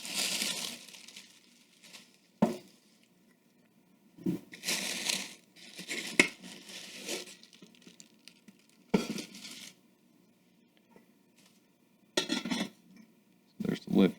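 Pieces of a metal camping cook set clatter as the lid and pots are handled, with bursts of scraping, clinking and rattling separated by quiet pauses, close up.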